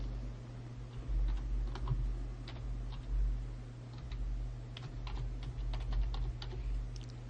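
Fingers type out a file name on a computer keyboard, a steady run of close, crisp key clicks with irregular spacing over a low electrical hum, and nobody talks.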